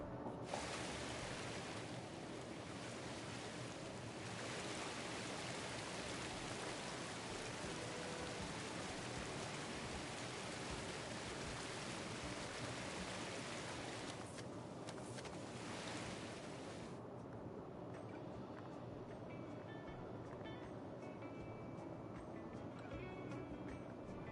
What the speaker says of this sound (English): There's plenty of water falling around in there